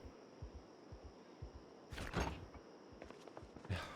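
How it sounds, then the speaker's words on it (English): A door opens in the 28 Years Later zombie video game, a short rush of scraping noise near the middle that is followed by a fainter creak and then a brief knock. Soft, low thuds repeat steadily underneath and there is no talk. "I just got scared by the sound of the door opening."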